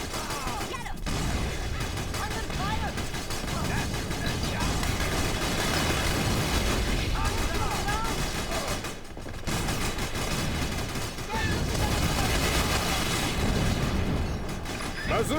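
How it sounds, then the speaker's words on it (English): Continuous battlefield din from the video game Battalion Wars, with sustained gunfire, booms and mechanical rumble filling the whole span at steady loudness, with a brief dip near the middle. "They're shooting at the commander."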